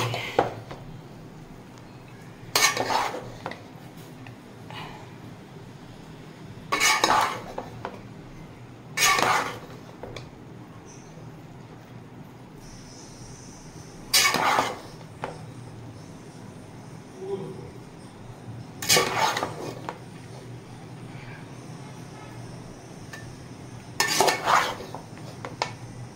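Rice is stirred in a pan for fried rice, with periodic clanks and scrapes of a spoon against metal every few seconds over a low background hum, close and without speech.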